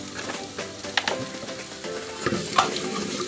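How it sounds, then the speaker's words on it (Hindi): Red chili and salt stirred into browned masala in a hot pan, a close sizzle broken by repeated scraping strokes and sharp clacks of a spoon against the pan. "इसको अच्छी तरह से मिक्स करेंगे ताकि ये सुर्ख मिर्च जो है इसमें हल हो जाए"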